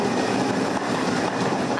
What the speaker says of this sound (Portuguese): o barulho do metrô invade o apartamento do Gabriel